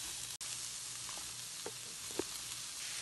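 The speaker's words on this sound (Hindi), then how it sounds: "1 टेबल स्पून ऑयल डालेंगे, अनियन डालेंगे, थोड़ा सा साटे हो जाए तो तमाम वेजिटेबल्स इसके अंदर शामिल कर देंगे।" Onions and vegetables sautéing in a tablespoon of oil in a pan, a steady, quiet sizzle with a few faint soft clicks from stirring.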